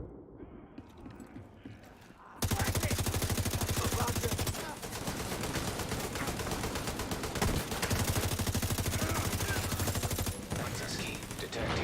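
Rapid automatic gunfire and turret shooting from The Division 2 video game erupt after a quieter opening, sustained loud bursts of shots with brief pauses between volleys.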